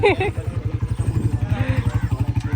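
A motorbike arrives and its engine idles in a quick, even putter close by, while a person talks over it at the start.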